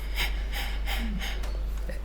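Rapid, forceful belly exhalations in the komibuki breathing technique used for shakuhachi playing, several short breathy bursts at an even rhythm, close and fairly loud with no talking.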